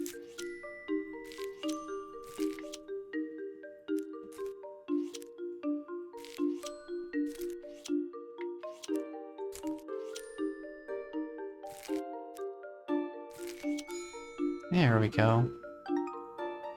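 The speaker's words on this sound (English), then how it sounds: "I think there were some subtle chimes that were playing." Soft melodic chimes play in the puzzle game A Little to the Left, a gentle run of bell-like notes stepping up and down, with a brief squishy sound near the end and a short spoken remark.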